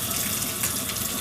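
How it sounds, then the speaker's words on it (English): Water gushing steadily from a tap to fill a bath for a dog, a loud, close, continuous rush with no voices. "I'm going to turn on the water."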